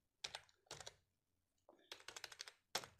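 Typing on a computer keyboard while an address is entered into an online form, short bursts of crisp key clicks separated by brief pauses, close and clear with no talk.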